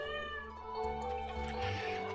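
A cat in Stardew Valley meows in a drawn-out, wavering cry that rises and falls, close and clear over a soft background.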